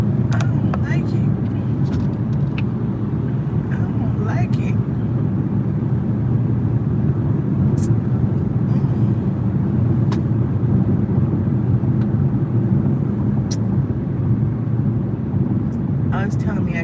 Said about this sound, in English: Look at all this traffic.